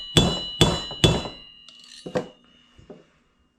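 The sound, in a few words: hammering a screwdriver to drive out a Honda 350X hub bearing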